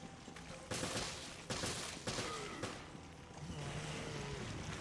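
Gunfire in a Zelda video game comes as a rapid burst of several sharp, loud shots over a rumbling game backdrop, with no talk.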